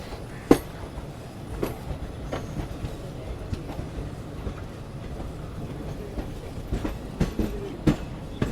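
The Himsagar Express rolls along after departing Agra Cantt, a steady close rumble with irregular clicks and clacks of wheels over rail joints throughout and no speech.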